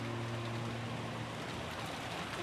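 Steady rain falls in the Umineko When They Cry video game, a dense, even wash of rainfall under a low sustained hum, with no voices.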